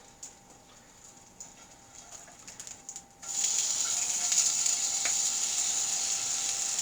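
Sausages sizzle in a Granitestone Diamond Pro sauté pan, a quiet crackle that jumps to a loud, steady hiss partway through after they are flipped.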